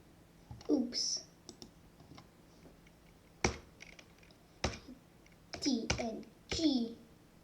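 Computer keyboard typing comes as a few scattered sharp clicks and short bursts of keystrokes, close and fairly quiet, with a person speaking in between.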